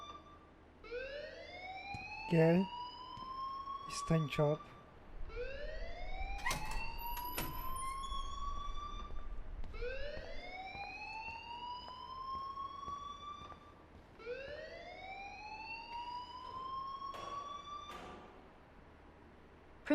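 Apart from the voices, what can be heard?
school alarm ringing in video game Life is Strange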